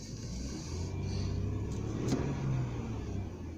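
A 2007 Ford F150 with a 4.2L engine and a fuel problem, idling low and then rising in a moderate rev as the throttle is pressed, easing back toward the end.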